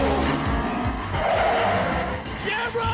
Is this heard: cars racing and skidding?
yes